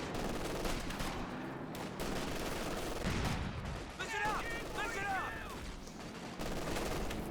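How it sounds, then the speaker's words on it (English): Battle gunfire from a light machine gun in Company of Heroes 2 rattles in rapid dense bursts, with short chirpy game sounds and faint voices mixed in. "This LMG is just cutting through them like a hot knife through butter"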